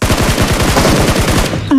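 Rapid sustained automatic fire from an M249 light machine gun in the BGMI battle royale game, a dense loud burst of evenly spaced shots running nearly two seconds before cutting off.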